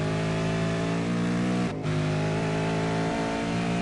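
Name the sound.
V8 Supercar engine accelerating out of a corner in a racing video game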